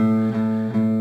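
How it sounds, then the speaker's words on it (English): A single sustained plucked guitar note, the E string fretted at the fifth fret, rings steadily, slightly wavering in level, with no other sounds around it. "the note that you hear when you play the 5th fret of the E string"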